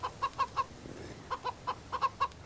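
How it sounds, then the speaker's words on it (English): A chicken in the survival video game Mist Survival clucks in two short bursts of rhythmic, mid-pitched clucks separated by a brief pause, moderately close with no talking. "That chicken is freaking making me nuts."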